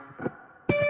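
A natural harmonic at the seventh fret rings out on a distorted electric guitar. A muffled chugging note comes first, then a bright, bell-like chime that sustains loudly to the end.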